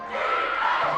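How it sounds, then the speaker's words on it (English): A high school football crowd at a Washington versus Enumclaw game roars together to fire up the defense, a loud, sustained wall of shouting voices that swells briefly and holds steady. "The crowd's trying to hype up the defense for another stop"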